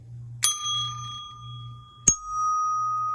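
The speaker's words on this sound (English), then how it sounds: "it's just one single note for just a little bell like this" A small bell tuned to a single E-flat note is struck twice, each a sharp clear ding that rings on with a long, sustained tone, close and alone.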